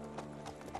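Hooves of a horse clip-clopping in Kingdom Come Deliverance II, a quick run of distinct knocks at walking pace, close and clear, with faint background ambience.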